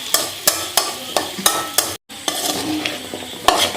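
A spoon stirs spiced tapioca with black pepper and onion in a pan over a low flame, making crisp scraping strokes about twice a second, close and fairly loud, broken by one short gap.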